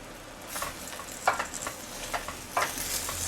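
Chopped collard greens are stirred in a pan over low heat, with scraping, rustling strokes at irregular intervals over a soft background sizzle, fairly quiet and without talk.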